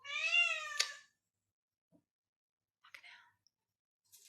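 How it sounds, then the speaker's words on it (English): A cat gives one clear, rising meow up close at the start. It is followed by long quiet with faint clicks and a soft whisper-like sound later. "Cat wants to be prioritised."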